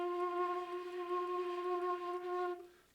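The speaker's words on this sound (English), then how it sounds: "the finger vibratos are a vibrato you do by moving your finger over the hole of a flute" A sustained F note on a metal flute, held steady for about two and a half seconds with a gentle finger vibrato rippling through it, then fading out cleanly and close to the listener.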